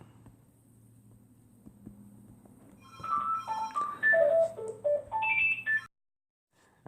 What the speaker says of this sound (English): the phone absolutely loves to ring when I'm making these